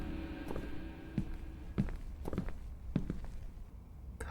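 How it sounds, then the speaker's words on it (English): Footsteps in a horror video game set in an apartment building, several soft, uneven steps at a walking pace, fairly close, with faint ambience behind. "You can literally hear footsteps."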